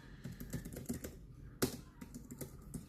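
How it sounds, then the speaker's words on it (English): Fast, uneven clatter of typing on a computer keyboard, close and fairly quiet, with one louder key strike partway through and a few small taps after. "I'm typing into the wrong window."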